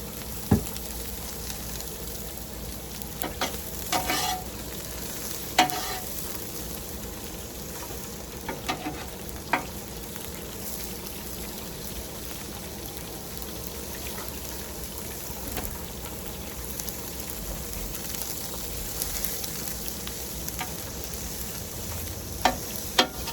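Chicken stir fry sizzles steadily in oil on a Blackstone outdoor griddle, a continuous crackling hiss with occasional sharper pops and scraping clicks, no talk.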